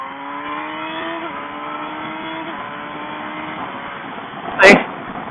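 Motorcycle engine accelerating through several rapid clutchless quickshifter upshifts, each marked by a brief dip as the pitch steps down and climbs again, steady and fairly close, ending in a short loud burst.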